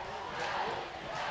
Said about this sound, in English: This crowd really getting into it right now. They're loving it.